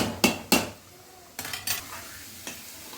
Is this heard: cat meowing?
no